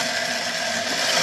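A case prep tool whirs steadily and loudly as it chamfers the mouth of a 300 BLK brass case, a continuous grinding buzz throughout with no voices.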